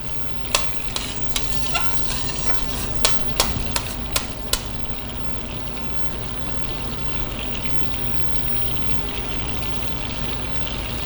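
Fresh cranberries cook with vinegar in a hot pan, giving a dense, even sizzle and bubbling with a run of sharp little pops and ticks in the first half.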